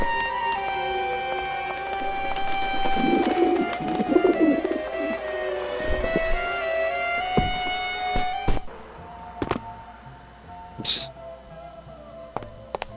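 Pigeons cooing at a window in the video game Grim Fandango, soft repeated coos over a layered game ambience with tonal hums and scattered clicks.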